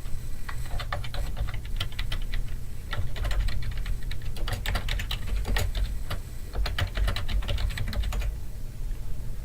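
A street address typed on a computer keyboard, with close, crisp keystroke clicks in quick runs separated by short pauses, heard alone without speech.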